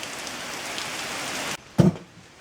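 Steady rain falls on a surface in a continuous hiss, and it cuts off abruptly partway through, leaving near quiet except for a brief low thump.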